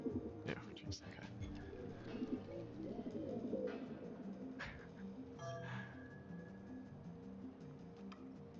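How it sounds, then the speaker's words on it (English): Video game pigeons cooing softly in a low, warbling burble, faint and mixed with scattered clicks and background game sounds. "Your tune charms the pigeons"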